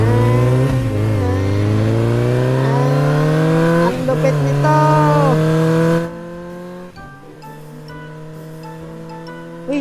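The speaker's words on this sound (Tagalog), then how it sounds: "Uy, ang ganda nun, karerahan ng motor." Motorcycle racing arcade game engine revs and rises in pitch under loud, excited talk, then cuts off abruptly partway through.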